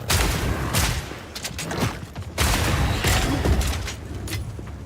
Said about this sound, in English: Who doesn't enjoy shooting enemies with a shotgun for 40 hours?